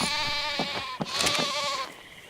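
Sheep bleating in ARK DragonPunk on Crystal Isle, a low-level tamed sheep giving several wavering, nasal bleats in quick succession, close and clear with no talk over them.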